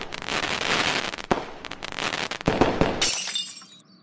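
A TV is smashed, with loud crashes of breaking glass and sharp impacts in a dense burst, followed by a trailing high shatter and scattering debris that fades out near the end.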